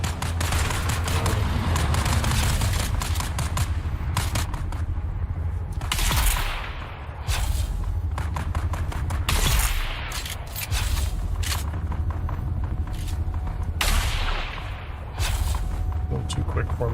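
Sniper rifle and shotgun fire in Dune Awakening, a desert survival game: loud, sustained volleys of gunfire with sharp reports, broken by brief quieter moments and mixed with other game noise.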